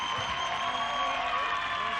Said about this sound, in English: Patricia Garcia getting a huge round of applause from the crowd.